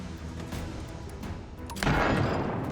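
Ship cannon firing chain shot during naval combat in Abandon Ship, a sharp crack and crashing impact near the end over a background of scattered rumbling hits.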